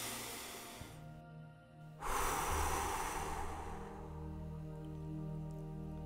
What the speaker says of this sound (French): je vais t'inviter à prendre une grande respiration